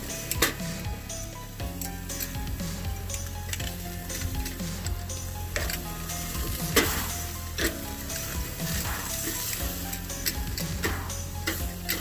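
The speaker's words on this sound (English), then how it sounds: "Now it's time to go ahead and flip these over." Ribeye steaks sizzle steadily on a PK charcoal grill just after being flipped, a dense continuous crackle of fat and juices with scattered sharper pops and light ticking from handling, close and loud, with no talk.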